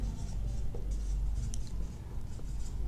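Pen or pencil writing on paper, a steady soft scratching that runs continuously at close range in a quiet room, with no talk.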